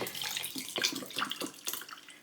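A drink with lime juice being poured, a light splashing trickle of liquid with small bright drips and gurgles, close and fairly quiet, no talking over it.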